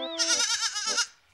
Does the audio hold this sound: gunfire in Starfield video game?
no